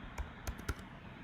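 A few quick keystrokes on a computer keyboard while entering a competitor's name into karate tournament software, three or four close, crisp clicks then quiet.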